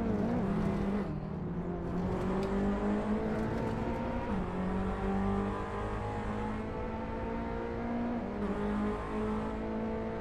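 Renault Clio Cup race car in the Assetto Corsa racing game, its engine droning steadily and loudly throughout with rising revs through gear changes and brief shifts in pitch.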